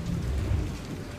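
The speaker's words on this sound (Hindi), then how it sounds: "घोर अंधेरी रात में बारिश हो रही थी" Heavy rain pours steadily through a dark night in a jungle in an animated horror story, a dense close hiss with a low thundery rumble beneath, no voices.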